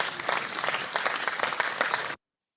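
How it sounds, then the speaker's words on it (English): An applause sound effect of dense, even crowd clapping runs steadily for about two seconds and then cuts off abruptly into silence. "putting an applause over my voice"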